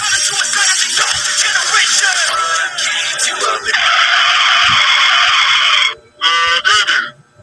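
A taxi stops abruptly with a long, loud, high tire squeal, followed by a few short, honk-like squeaks as it comes to a halt.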